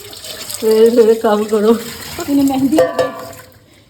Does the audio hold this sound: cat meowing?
no